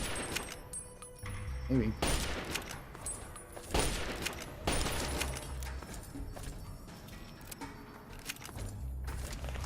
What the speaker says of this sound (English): What are you shooting at me with? Hunting rifle?